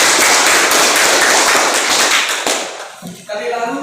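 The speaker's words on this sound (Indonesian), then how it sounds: "Kita berikan aplaus untuk Adik Ella" A classroom full of students claps for a classmate, dense loud applause lasting about three seconds, then thinning into scattered claps and fading as a voice starts speaking.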